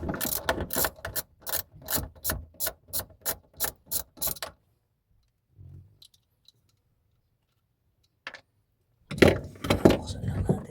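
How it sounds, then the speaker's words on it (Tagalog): A size 8 ratchet wrench clicks in a rapid run of regular strokes, then falls silent with a few faint knocks before a second burst of ratcheting. The work is a fuel pump assembly change on a 2003 Toyota Altis. "Tapos size 8 naman itong ratchet natin."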